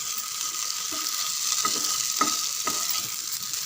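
A potato and corn flour snack fries in a pan under a steady, bright sizzle, while a spoon stirs through it with several soft scraping knocks, close and clear.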